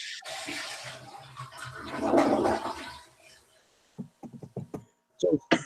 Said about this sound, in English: that sounded exactly like a toilet flushing